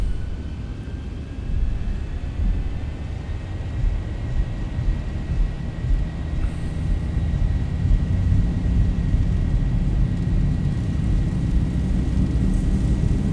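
Boeing 737 jet engines from the Zibo mod in the X-Plane 11 flight simulator spool up to takeoff thrust, a loud, steady, deep roar with a thin whine above it that grows slightly stronger.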